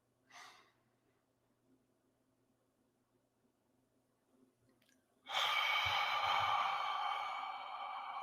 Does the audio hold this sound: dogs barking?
no